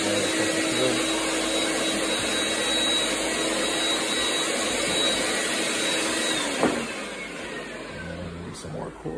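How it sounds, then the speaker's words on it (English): A floor machine vacuum sucks up floor stripping solution during a strip-and-wax job, a steady loud motor whine running throughout with a brief thump near the end. "Now it's time to suck up the solution."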